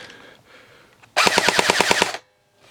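A CYMA CM016 M4 airsoft rifle rips off a single full-auto burst of about ten rapid snapping shots, loud and close, lasting roughly a second after quiet handling noise, then stopping abruptly.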